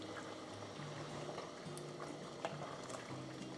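Pork pieces slow-cook in hot melted lard, giving a faint, steady low sizzle and bubbling with a few soft clicks, close by and quiet, with no voices.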